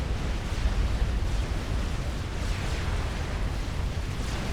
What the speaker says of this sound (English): Artillery being redirected versus the island.